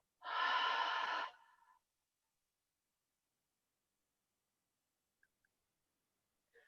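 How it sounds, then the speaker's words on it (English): One long, strong exhale through the mouth during a guided yoga breathing exercise, close and breathy, lasting about a second before trailing off into near silence with a couple of tiny clicks. "Exhale."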